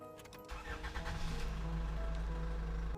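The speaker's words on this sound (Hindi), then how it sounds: "गाड़ी आगे बढ़ा दी और गाड़ी अपनी पूरी स्पीड से आगे बढ़ चली" A car engine starts up and revs hard as the vehicle pulls away at full speed. The engine roar builds loud and steady close by.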